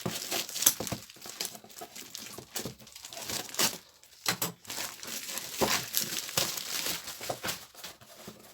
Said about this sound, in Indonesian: Oke, kita unboxing.